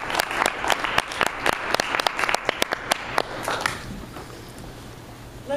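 An audience applauds to welcome a speaker at a speech event, a dense burst of many hands clapping close by that gradually thins and fades after a few seconds.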